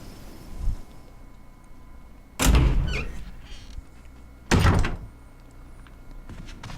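In the Resident Evil REmake video game, a door opens and closes: two loud, solid thuds a couple of seconds apart, with a short creaking scrape after the first, over a quiet background.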